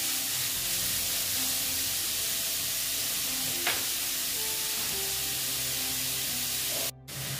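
Radish ghonto sautéing and being stirred in a pan, a steady broad sizzle holding throughout, close and even, with a brief dip near the end.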